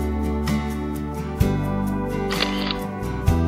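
A camera shutter clicks twice, once mid-way and once near the end, on a walk along a mountain trail. Each click is crisp and brief, set against steady background music.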